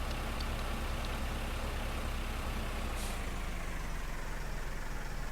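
Tractor engine in Farming Simulator 2015, a continuous loud, rough rumble holding steady throughout with a brief hiss around the middle.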